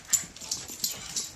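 A pet dog whimpers with a few soft, high whines repeating in quick succession, close by and moderately loud, with a faint shuffling underneath.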